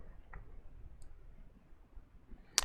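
Two or three quiet, sharp clicks of a computer mouse sound in an otherwise hushed room, with a brief pause between each one.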